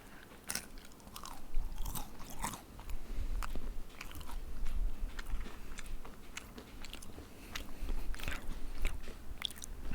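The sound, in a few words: crunching while biting a kueh (Singapore snack)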